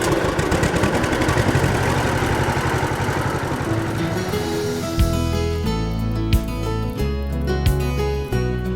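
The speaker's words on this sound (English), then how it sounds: "One of my favorite parts of my job is to be able to drive tractors and to take you for rides around the farm." A farm tractor carrying riders around a pumpkin farm, its engine running with a steady mid-low rumble for about five seconds before music takes over.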